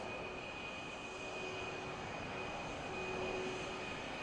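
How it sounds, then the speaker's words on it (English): An HTT-40 trainer aircraft rolling at the Aero India 2025 air show in Bengaluru gives a faint, distant, steady engine drone with a thin constant whine, unbroken and without voices. "The aircraft is now positioning for doing a 270 degrees left roll to turn right."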